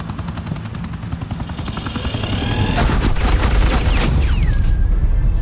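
Sustained automatic gunfire from Agent Quinn laying down suppressing fire in Batman: The Enemy Within, a dense rattling barrage that swells louder and more chaotic midway, with a helicopter-like roar and swooping whine beneath it.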